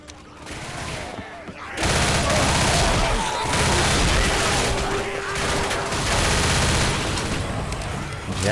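Loud, sustained gunfire from a hunting rifle in the zombie shooter game Left 4 Dead, dense and continuous after a brief quieter opening, with overlapping battle noise throughout.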